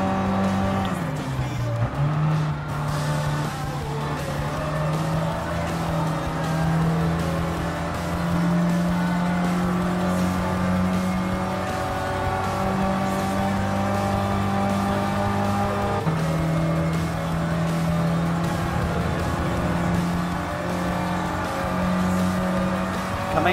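A first-generation Mini Cooper races in Gran Turismo Sport, its engine droning steadily with rising and falling revs through gear changes and a dip under braking, continuous and close, with faint tire noise underneath.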